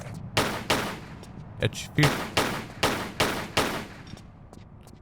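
Gunfire in Tomb Raider III, a run of about eight loud, evenly spaced shots ringing out over a steady background rumble, with a brief word spoken partway through.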